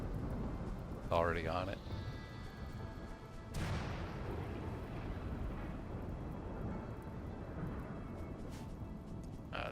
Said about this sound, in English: This thunderstorm.